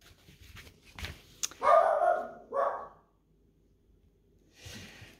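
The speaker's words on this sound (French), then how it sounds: "j'ai coupé pour la chienne" A female dog barks a few times close by, a couple of gruff bursts with snorting breaths between, then a softer sound after a short pause, indoors.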